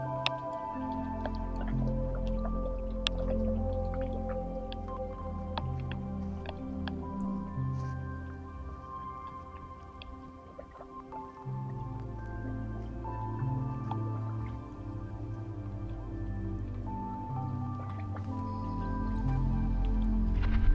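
Gentle bubbles from a swimmer exhaling continuously with the face underwater, a soft ongoing stream of drips, gurgles and squishy burbles at close range with no talk.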